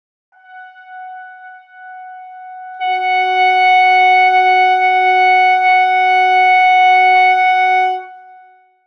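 A clarinet mouthpiece and barrel played alone give a slightly sharp concert F sharp. A thin tone wavers for a couple of seconds, then settles into a loud, steady, reedy held note for about five seconds.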